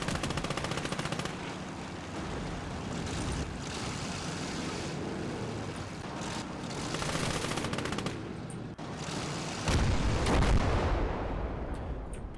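Constant battlefield din in Call To Arms: Gates of Hell, with repeated artillery blasts and rattling gunfire layered into a loud, dense, unbroken barrage, plus heavier booming bursts near the end.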